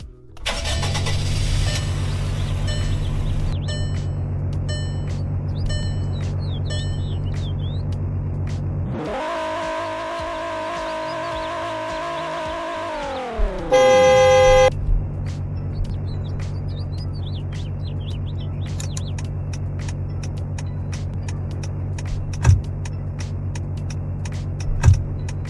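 A small car fitted with a big engine in the Roblox game Greenville idles with a steady low rumble, then revs hard for several seconds before dropping back, with a brief high chime and faint birdsong around it.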